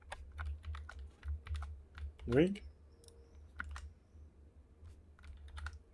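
Computer keyboard keys click in a light, irregular patter while someone types, with a brief spoken interjection partway through.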